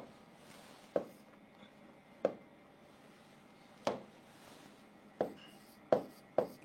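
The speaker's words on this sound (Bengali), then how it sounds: "আমি লিখে দিচ্ছি।" Marker or chalk writing on a board during a chemistry lesson, heard as a series of sharp scraping taps and short strokes at irregular intervals, close and fairly quiet, with no talking.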